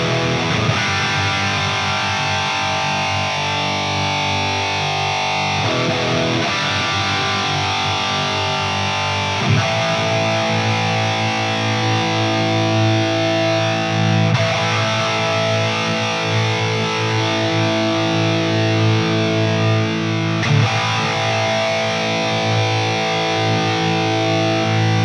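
Electric guitar played through a Line 6 POD Go on its Revv Gen Red amp model, thick high-gain distortion with sustained chords and riffs, steady and loud with no talking.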